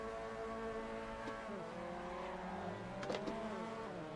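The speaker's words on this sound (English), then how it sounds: "rev the engine" A Mazda MX-5 race car engine revs at Phillip Island, its pitch sweeping up and down in repeated blips, steady and moderately distant with no voices.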